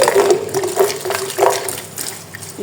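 Water gushes from a tap into a jug being washed, a close, steady pouring flow with slight gurgling rises over nearly three seconds, no voices.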